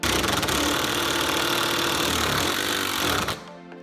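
An impact driver hammers a fastener in a loud, dense, rapid burst of percussive blows that holds steady for about three seconds and then cuts off abruptly.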